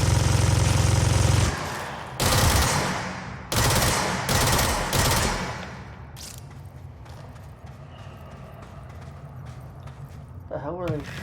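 Video game gunfire: loud bursts of automatic shots in rapid succession, then scattered lighter clatter and mechanical clicks fading away, with speech mixed in.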